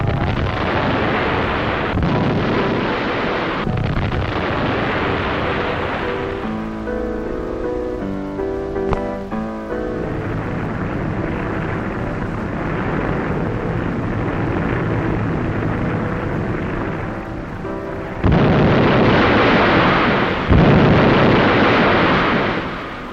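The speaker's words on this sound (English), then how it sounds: "Ceaselessly bombed from the air" Aerial bombing from an old 1940s film about wartime Poland, a continuous roar of blasts and rumbling detonations with crackling debris, a quieter stretch of scratchy tonal sound midway, then heavier explosions near the end.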